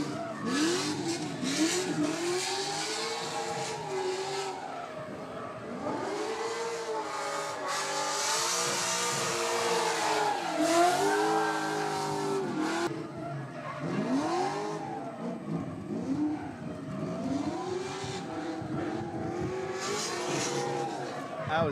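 A Formula Drift pro-am car on a competition run revs hard and repeatedly, its engine note sweeping up and down in loud surges over continuous tire squeal, close and sustained throughout with crowd noise beneath.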